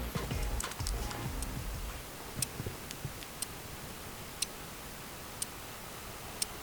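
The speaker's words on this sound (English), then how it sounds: "the ticking sound is quite loud, compared to every other watch I've owned" A Swatch Mono Black SUOB720 quartz watch held near the microphone, its sharp ticks spaced about one second apart, crisp and isolated after a brief stretch of handling rustle.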